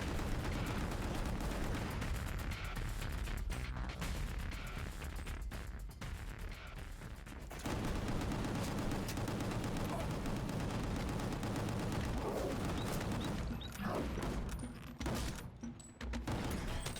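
Dense, continuous gunfire from the video game Gungrave G.O.R.E., rapid bursts of shots blending into a loud, sustained barrage with a few brief gaps.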